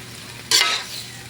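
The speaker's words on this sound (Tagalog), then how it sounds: "Halo-haloin naman natin kaunting halo lang mga idol para ma-mix yung lasa mga idol" Spicy adobong chicken intestines with soy sauce being stirred in a pan, giving one sudden close burst of scraping, sizzling noise that fades quickly, with no talking.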